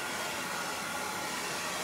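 A blow dryer blowing steadily at close range while long layered hair is styled and curled with a round brush, a continuous loud airy whoosh with no talking.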